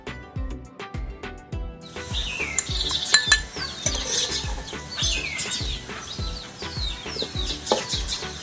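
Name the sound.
chopped onions frying in oil in a wok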